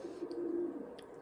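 A single soft, low coo from a pigeon or dove, close and steady for about a second, with faint higher chirps around it.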